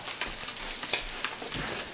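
Milk poured into a hot roux in a pot gives a steady, soft sizzling crackle close by, with no talking.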